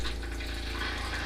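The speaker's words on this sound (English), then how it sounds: "pump comes on, turn the tap off, pump goes off" A pressure water pump kicks in as a tap opens, giving a steady, close, low mechanical hum with a fast pulsing throb that holds level throughout.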